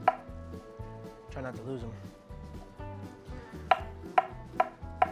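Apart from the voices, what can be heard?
slicing a banana with a knife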